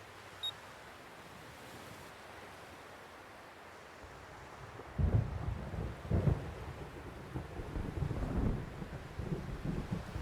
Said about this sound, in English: I hate thunder.